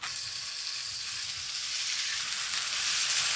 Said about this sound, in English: I'm just gonna sear both sides